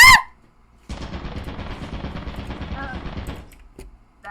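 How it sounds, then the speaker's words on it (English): Rapid automatic gunfire from a turret in the video game Lethal Company: a dense, continuous burst of shots lasting about two and a half seconds, with brief voices before and during it. "There's a turret over there"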